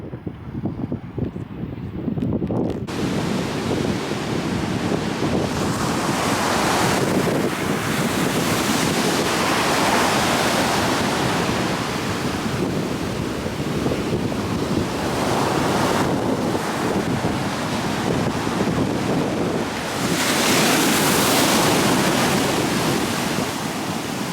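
Ocean waves break steadily on a beach by the westernmost point of Europe, loud and close, with heavy wind buffeting the microphone and repeated surges of surf washing in.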